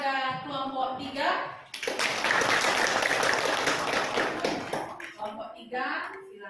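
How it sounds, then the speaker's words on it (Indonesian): A group of people applauds a presenting group in a classroom with a dense, sustained burst of clapping lasting several seconds. Talk is heard before and after it. "beri aplaus kepada kelompok 3"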